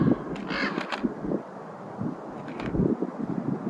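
A raven calls out in the backcountry with a few harsh croaking caws, set against gusty wind buffeting the microphone, with no voices present.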